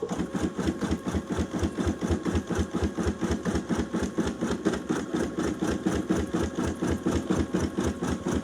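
An embroidery sewing machine stitches a Father's Day design with a fast, steady mechanical chatter, evenly pulsing needle strokes repeating close by with no talking.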